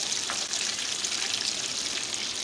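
Mutton chops fry in a pan with a continuous dense sizzle and crackle, steady and close, with no voices over it.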